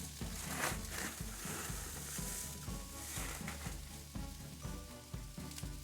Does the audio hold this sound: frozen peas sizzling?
yes